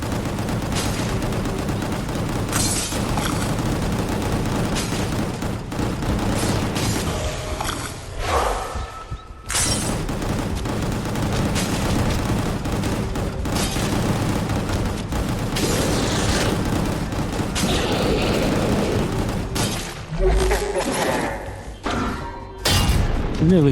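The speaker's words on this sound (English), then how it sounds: "I really love that bullet kick." A bullet kick attack in the action video game Gungrave GORE, with loud repeated gunfire bursts and heavy thuds and booms layered over game music, sometimes under a voice talking.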